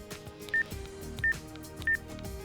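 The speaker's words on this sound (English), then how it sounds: "To make a call, enter a phone number using the keypad." Keypad tones from a Motorola i550 Plus phone sound three times as a number is dialed, evenly spaced short beeps, clear and up front over a soft background hum.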